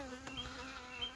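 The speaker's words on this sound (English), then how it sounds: "I got myself a wasp here." A wasp buzzing in a steady, faint drone close by, alone with no talking.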